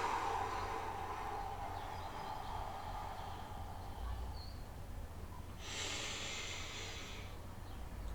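A slow, breathy exhale during guided breathing meditation, a soft hiss that swells briefly midway and then fades, heard close against a low background hum with no talking.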